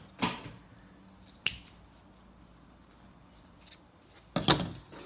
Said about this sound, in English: And I'm gonna try to roughly cut it into 3